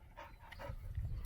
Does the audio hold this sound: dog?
yes